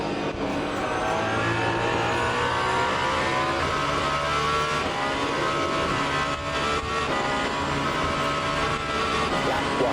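Race car engine in Le Mans Ultimate on cold tires, holding a steady loud high-revving drone with small shifts in pitch, close and unbroken throughout.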